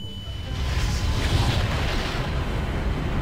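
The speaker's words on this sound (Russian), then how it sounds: "Вот она взорвалась." A deep, rumbling bomb explosion in Garry's Mod, a boom with a sustained roar of blast noise filling the whole clip, loud and close, with no voices.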